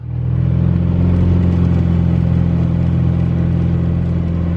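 A Cessna 210 aircraft engine runs at takeoff power, a loud, steady droning roar with a strong low hum that holds constant throughout, heard close and without talk.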